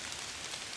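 Steady rain falling on a surface, a dense continuous hiss of drops with no pauses, even and moderately quiet throughout a short stretch.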